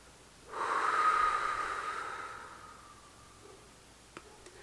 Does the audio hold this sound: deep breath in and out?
yes